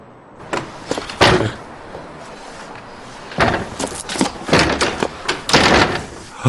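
Heavy fists pounding on a closed door in bursts, loud and close, several clustered blows at the start and a longer run of repeated banging later, from a man demanding the door be opened in a drama scene.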